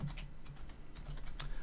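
Quick, light keystrokes on a computer keyboard while a folder name is entered, a soft run of close clicks in an irregular rhythm over quiet room hum.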